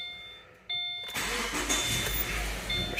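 A 2016 Subaru Forester engine cranks and catches after a CVT solenoid replacement, a chime tone beeping first, then a loud close start that settles into a steady, slightly rough idle.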